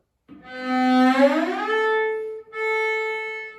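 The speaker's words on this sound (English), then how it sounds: "second finger on the A string, and we're going to slide up to a harmonic A." A single bowed note on a string instrument, played with the second finger on the A string, slides smoothly upward to a harmonic A, settles into a clear, sustained tone, breaks briefly, then rings on at the same pitch.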